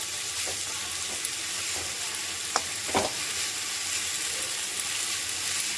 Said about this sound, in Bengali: এবার আঁচটা বাড়িয়ে দিয়ে আমি ভালো করে এটাকে রান্না করে নেব